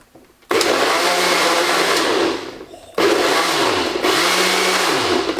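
A countertop blender grinding food in short bursts: three loud whirring pulses with brief pauses between, each spinning up and winding down, close and alone with no talk.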